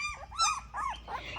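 An irritated mother dog with puppies gives a run of four or five short whiny growls and grumbles, close and moderately loud, rising and falling in quick bursts.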